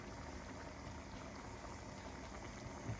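Bolognese sauce bubbling in a pan, a soft, steady, faint simmering crackle with no pauses.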